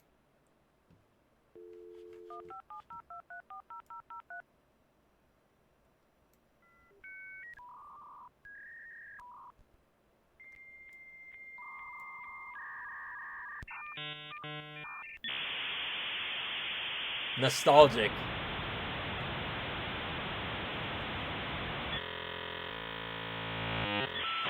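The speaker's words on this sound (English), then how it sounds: "Can we get some dial-up noises?" A dial-up modem connecting: a run of touch-tone dialing beeps, pauses and warbling handshake tones, then a loud steady screech of static-like noise with rhythmic pulsing, and a brief voice near the middle.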